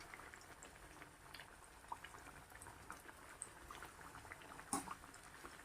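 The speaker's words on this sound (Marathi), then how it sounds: "आता आपण हे जे लांब केलेले वेफर्स आहेत ते पण टाकून तळून घेऊया" Sweet potato chips fry in hot oil over medium heat, a faint continuous bubbling sizzle with small pops scattered through it and one slightly louder crackle near the end.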